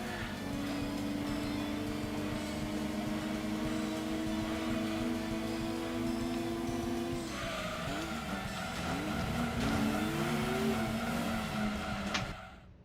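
Race cars in Gran Turismo 2 hold a steady, droning engine whine. Partway through, the pitch wavers and bends as the cars spin out, then the sound cuts off abruptly at the end.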